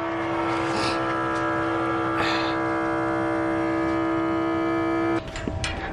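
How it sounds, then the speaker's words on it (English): A diesel fuel polisher pump aboard a boat hums steadily with a strong tonal whine and engine-like drone, close and fairly loud, then cuts out abruptly near the end, followed by a few soft knocks. "turn the polisher on again, and hopefully this thing will pump the diesel uphill"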